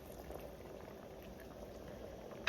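A large pot of water at a steady rolling boil for a 20-pound batch of Jamaican rice and peas, with a dense continuous bubbling and seething heard close up, alone, and a small knock at the very end.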